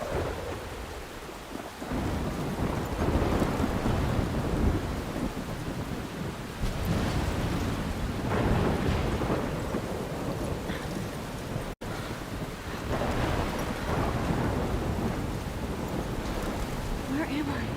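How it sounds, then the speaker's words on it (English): Video game thunderstorm with heavy rain, gusting wind and rolling thunder, a continuous dense roar at moderate level with swelling rumbles, no talking. "I'm trapped in a storm?"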